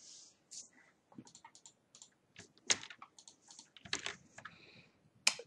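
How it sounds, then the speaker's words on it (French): Keys clatter on a computer keyboard in irregular bursts of quick taps, with a few louder strokes and short pauses between runs, close and fairly quiet. "Alors, je continue à taper la suite."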